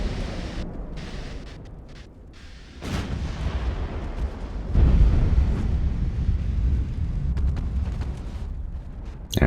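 Battleship main guns fire in the naval game Ultimate Admiral: Dreadnoughts, deep booming blasts rolling into a sustained rumble, loud and close with no talking.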